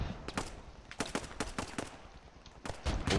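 Rapid bursts of machine gun fire in the Post Scriptum game, several sharp volleys in quick succession with short gaps, loud and close, no talk.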